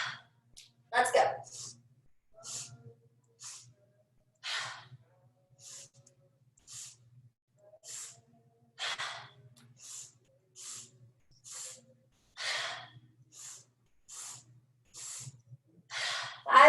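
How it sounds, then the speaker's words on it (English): Deep, steady yoga breathing: a run of close, breathy inhales and exhales, each a short airy rush with brief pauses between, repeating at an even pace. "inhale, inhale, inhale, exhale it out. Breathe in, breathe in, breathe in, breathe out."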